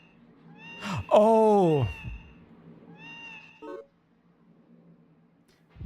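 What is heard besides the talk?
cat noises from touching walls in Baroque video game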